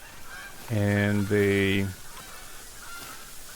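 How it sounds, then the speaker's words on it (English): Geese honk in the video game Call of the Wild with two loud, nasal calls back to back, heard close over a faint outdoor background, while a voice murmurs briefly. "Oh, it's probably just geese."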